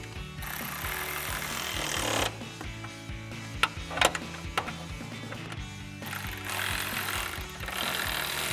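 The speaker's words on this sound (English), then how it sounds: "And then we'll grab our 10mm socket and tighten these down." A ratchet with a 10mm socket tightens hood tie-down bolts on a 2021-2024 Ford Bronco, with bursts of rapid ratcheting clicks separated by a few sharp metallic knocks, close and alone.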